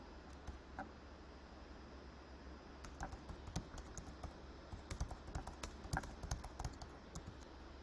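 Quiet keys clacking on a computer keyboard as a ChatGPT prompt is typed, an irregular run of soft taps that grows denser and louder toward the end, over a low steady hum.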